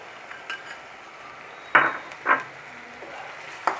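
Onions fry quietly in a pan with a soft steady sizzle, broken by a few distinct clinks and scrapes of a spoon stirring them against the metal.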